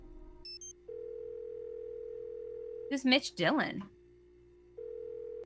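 A steady telephone dial tone hums in the Nancy Drew: Secrets Can Kill video game, starting after a few short beeps, then cutting out while a voice speaks briefly and returning afterward.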